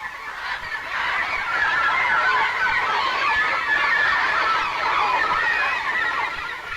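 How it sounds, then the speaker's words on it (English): A large seabird colony in Newfoundland in panic as a raven approaches, a dense, continuous clamor of many harsh calls overlapping, loud and steady throughout. "Suddenly, there is panic among the birds."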